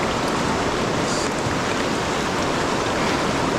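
Water rushing on the Kenai River in Alaska, a loud, steady broadband wash of flowing current heard up close without a break and with no voices.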